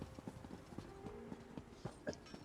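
A horse in the game ESO trots with quick, even clip-clop hoofbeats, soft but distinct, continuing steadily with no speech over them.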